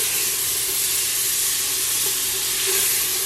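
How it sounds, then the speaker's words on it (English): Butter melts and sizzles loudly in a hot pan for pasta, a steady bright hissing crackle that fills the clip with no talking. "I'm gonna go ahead and add my butter so it could start melting down"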